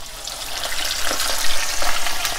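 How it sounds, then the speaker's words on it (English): Seasoned appetizer portions hit hot oil and fry with a loud, steady crackling sizzle that intensifies and bubbles in bursts, no voices over it. "we're going to basically take the seasoned portions that we've seasoned earlier, and we're going to place it into the hot oil"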